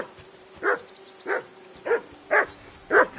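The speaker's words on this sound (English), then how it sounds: "that barking's driving me nuts" A dog in the video game Kingdom Come: Deliverance II barks five times at a steady rhythm, moderately close and clear, over a quiet low background hum.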